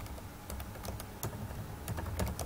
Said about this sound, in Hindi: मैं इस बात को भी टाइप कर रहा हूं